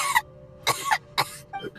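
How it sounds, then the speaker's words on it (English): A character in a Genshin Impact cutscene coughs in a series of four sharp, close bursts with short gaps between them, heard alone over a faint steady hum. "How long have you had that cough, Tonya?"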